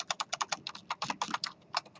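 Someone types quickly on a computer keyboard in a lecture setting, the keystrokes landing as a dense, fairly even stream of clicks up close with no talk over them.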